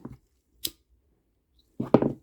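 Scissors snip through a kandi cuff bead string in a few quiet, separate cuts: a short clip at the start, another soon after, and a fuller crunching snip at the end, with silence between.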